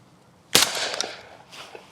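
A single sharp report from a Winchester SX4 20 gauge semi-automatic shotgun fired at clay targets outdoors, a loud crack with a short ringing tail and a faint echo close behind.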